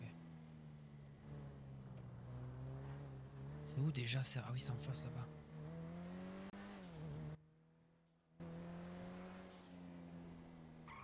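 A video game car's engine drones steadily, its pitch swelling and easing as it drives, with a brief burst of higher noise midway and a short dropout near the end, while people chat over it.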